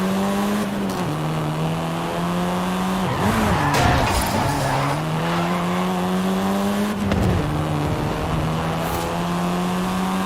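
A seventh-generation Volkswagen Golf R driven in Forza Horizon 5, its engine droning loudly and steadily with pitch dips as it shifts gears, tires squealing briefly mid-run.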